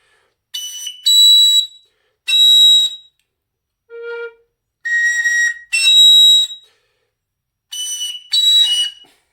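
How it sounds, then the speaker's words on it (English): Piercing high whistle notes in the third register, played in short bursts with pauses between, a few squeaky tones and one brief lower note in the middle, close and loud. "that high E flat fingering doesn't want to work on this whistle"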